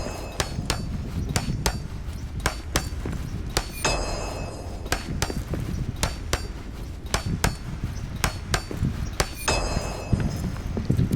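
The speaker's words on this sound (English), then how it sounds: "The right hammer will get the job done." Repeated metallic hammer strikes from repair work in the video game Return to Moria, a steady series of sharp, ringing clangs at irregular intervals over a dense low rumble of background game sound.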